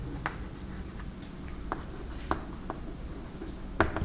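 Chalk or marker taps and scratches on a board during a physics lecture on electrostatics, a few short strokes spaced irregularly with a low room hum and no talk over them.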